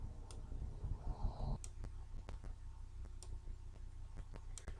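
Several sharp, isolated computer mouse clicks tick out while working in Neo4j database software, spaced irregularly over a low steady room hum, close and fairly quiet, with no talking.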